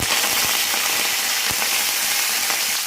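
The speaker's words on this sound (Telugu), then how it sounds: "ఆయిల్ వేడెక్కాక ఆవాలు, మినపప్పు, జీలకర్ర వేసి చిట్పాలు ఆడించాలండి" Mustard seeds, urad dal and cumin sputtering in hot oil, a dense close sizzle with scattered small pops and crackles throughout.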